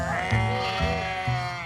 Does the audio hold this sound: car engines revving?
no